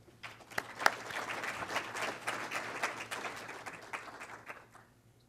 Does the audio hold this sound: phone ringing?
no